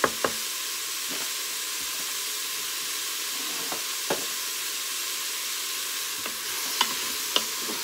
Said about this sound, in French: Vous faites tomber un peu les poireaux avec les carottes.